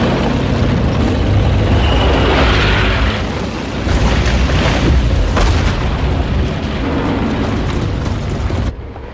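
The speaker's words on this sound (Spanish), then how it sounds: "atacándolas con lanzacohetes llamados los órganos de Stalin" Katyusha rocket launchers firing in a WWII offensive, a dense continuous roar of booming blasts and rushing rocket noise, loud and sustained with no pauses.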